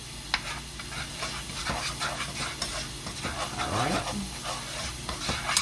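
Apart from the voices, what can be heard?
garlic sautéing in butter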